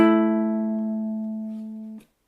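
A single ukulele chord plucked on the G and C strings rings out clearly and decays smoothly over about two seconds before being abruptly damped.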